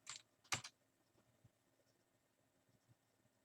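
A computer keyboard being typed on during a name entry: two brief clusters of soft clacks near the start, then near-silence with only faint low thumps.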